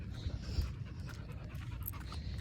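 A dog steadily panting in quick, soft rhythmic breaths, close and fairly quiet, with no talking.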